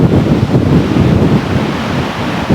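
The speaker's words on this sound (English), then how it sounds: "The beach at Waimea on Kauai" Surf rolling in at the beach at Waimea on Kauai, Hawaii, a steady broadband wash of breaking waves with wind buffeting the microphone, continuous and fairly loud throughout.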